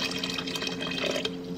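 Water pours steadily into a pot holding one and a half cups of rice, a continuous close trickle and splash with no talking.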